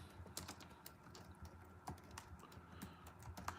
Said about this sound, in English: I'm gonna go ahead and type it in from my other channel